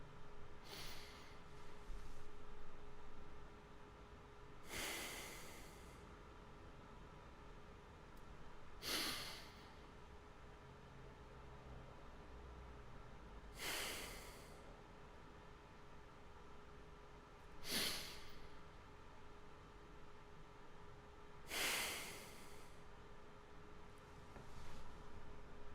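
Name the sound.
three deep breaths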